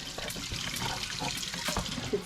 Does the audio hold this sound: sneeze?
no